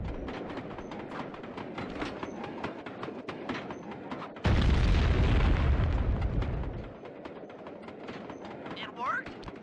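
A caboose blown open in the Sly 2 video game, with a loud, dense low burst lasting about two seconds midway, set between steady game music and background sounds.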